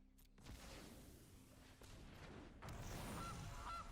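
Goose honks from the Gilded Goose card in the video game Magic: The Gathering Arena, two short honks near the end over a card-game whoosh and rumble, faint and with no talking.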